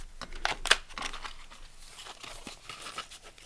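Fabric pages of a handmade concertina book folded up by hand, giving soft crinkling and rustling bursts, with a few sharper crisp crackles early on, close and fairly quiet.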